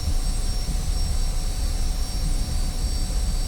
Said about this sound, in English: you'll notice that the engine is a bit laggy